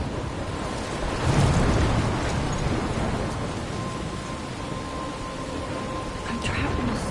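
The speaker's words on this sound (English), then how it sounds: "I'm trapped in a storm?" A storm scene in the video game Life is Strange, with steady dense rain and a deep rolling rumble of thunder swelling early on, then continuing as an unbroken wash of rain.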